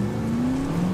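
A car in The Saboteur drives under steady engine load, a loud continuous motor hum with a slowly rising pitch over one second, no voices.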